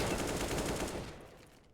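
Rapid automatic AK rifle fire in Counter-Strike on the Mirage map rattles in a dense, overlapping burst from several guns, loud at first, then thinning and fading out.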